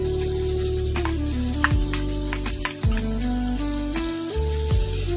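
Onion sizzles steadily in hot oil in a pan for a katla fish curry, a dense continuous frying hiss with a few soft clinks and stirring scrapes.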